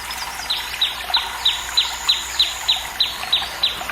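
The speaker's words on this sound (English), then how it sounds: "A sweet fine call of a morning bird of whimsy" A morning bird sings a bright, repeating call, about a dozen evenly spaced high chirps in a steady rhythm over faint background hiss, with no voices.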